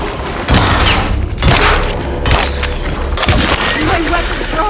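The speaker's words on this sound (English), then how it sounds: "My weapon broke!" Heavy booming thuds and cracking impacts from combat in the Alone in the Dark video game as a weapon breaks, several loud hits spaced a second or so apart over a low rumble.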